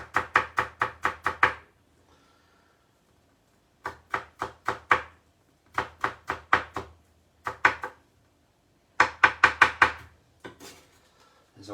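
A knife finely chops a garlic clove on a board in quick bursts of sharp rhythmic taps, several clusters separated by short pauses, close and clear with no voices.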